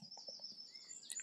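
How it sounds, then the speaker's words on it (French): Birds chirping and singing outdoors on a sunny day, quiet and somewhat distant, a few short tweets and a thin high whistle over faint background, no talk. "Il fait beau, les oiseaux chantent."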